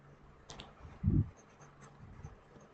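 Writing on a board during an English grammar lesson: short, faint scratchy strokes with one firmer stroke in the middle, no talking over them.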